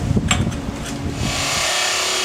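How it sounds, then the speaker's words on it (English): An angle grinder, used on a Yamaha 650 scrambler build, spins down after cutting, its rough broadband whirr settling into a steady fading hum over about two seconds, with no talk. "that noise is just the grinder running down"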